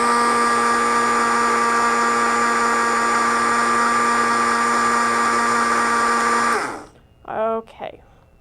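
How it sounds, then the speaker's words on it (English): A blender whirs steadily with a high, even motor whine as it blends a spinach smoothie, running for about six seconds before winding down. A short voice is heard after it stops. "so I'm going to blend it a little bit more"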